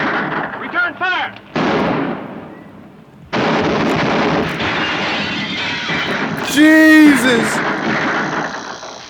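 Several heavy gunshots cracking amid shouting voices in a 1954 film shootout, with a horse whinnying loudly near the end and bursts of tense dialogue between the shots.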